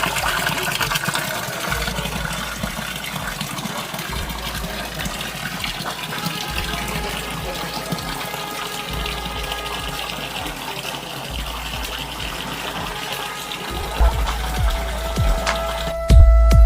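Water gushes and splashes steadily at the source of the Son river at Sonmuda, Amarkantak, a continuous broadband rush with no talk, growing louder near the end.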